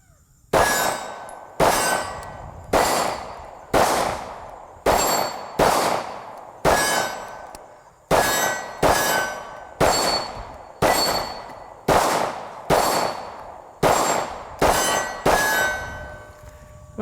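A Smith and Wesson SD9VE pistol fires about sixteen shots in an irregular but steady rhythm, each sharp crack followed by a bright metallic clang of steel targets ringing out, loud and close with brief decays and no talking.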